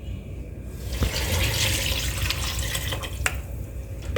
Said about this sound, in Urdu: اب ہم اس میں پانی ڈالیں گے